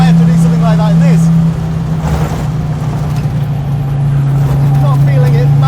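A 1985 Audi Sport Quattro S1 engine drones steadily, pitch wavering as it pulls on turbo boost, with someone talking over the engine throughout.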